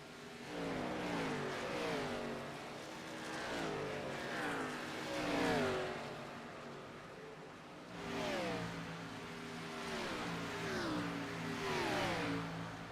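Xfinity Series race cars roar past at Nashville Superspeedway in Lebanon, Tennessee, engines swelling and falling in repeated waves as they pass, heard from a distance with the pitch sliding downward on each pass.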